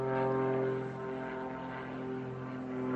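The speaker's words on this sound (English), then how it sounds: "can you hear the plane overhead?" Propeller airplane passing overhead outdoors, a steady droning engine hum with layered tones, loud and continuous throughout with a slight dip and swell, no talking.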